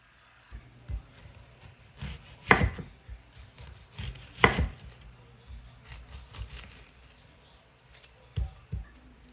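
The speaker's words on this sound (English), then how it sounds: "while I cut up my slices of onion" A knife chops through onion slices on a cutting board in scattered close strikes, including a few sharp heavy thuds and quieter cuts between them, all against a quiet kitchen background.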